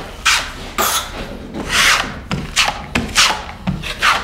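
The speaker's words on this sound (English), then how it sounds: "I take the same 12-inch trowel and I remove most of the joint compound" A 12-inch drywall trowel scrapes joint compound off a wall in a series of repeated broad rasping strokes, close and fairly loud, about eight passes with brief gaps between them.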